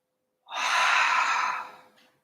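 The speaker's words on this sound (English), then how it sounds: "Long, smooth breathing." A single long, smooth exhale during yoga, a steady breathy rush lasting over a second before tapering away, close and alone.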